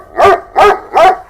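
A dog gives three loud, close barks at a steady rhythm, each one full and resonant, with no voices over them.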